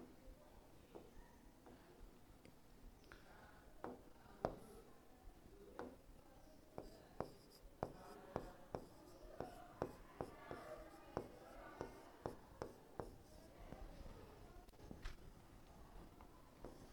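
In a classroom, chalk taps and scratches an answer onto the board in a quiet, irregular series of sharp little clicks, spread out over many seconds with faint room noise between.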